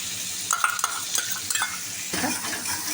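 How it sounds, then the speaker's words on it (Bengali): Chopped garlic fries in butter over low heat, a steady soft sizzle with scraping stirs and light utensil clinks against the pan. Nobody talks. "এবার আমি রসুন কুচিটা দিয়ে দিচ্ছি।"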